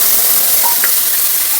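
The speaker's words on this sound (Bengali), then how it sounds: "দিয়ে দিচ্ছি মশলা" Spices land in a hot pan of oil while cooking a vegetarian dish of turmeric-seasoned vegetables, giving a loud, steady broadband sizzle with a few faint clinks on top.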